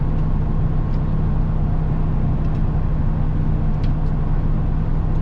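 A Bounder motorhome's engine idles while warming up, a loud, steady low rumble with a constant hum that holds unchanged throughout, close by and with no talking.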